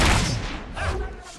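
Burst of gunfire in Fable III, several loud, rapid booming shots packed into a second and a half of close battle noise.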